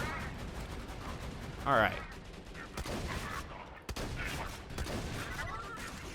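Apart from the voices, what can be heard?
gunfire from turrets in the video game Borderlands 2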